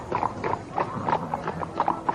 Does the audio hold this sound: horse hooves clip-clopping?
yes